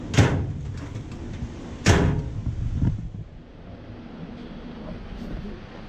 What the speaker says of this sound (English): That drawer opens and closes perfectly fine.